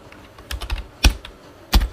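Keys clatter on a computer keyboard as code is typed, a few soft taps followed by two louder, sharp keystrokes, close and with no talking.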